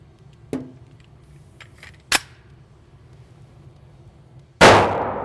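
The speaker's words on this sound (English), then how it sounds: "3 slow shots to make sure the disconnector works, and then shoot the rest as fast as possible." A CZ P-07 pistol fired slowly after a trigger job: three sharp, loud reports spaced about two seconds apart, the last ringing out with a longer fading tail.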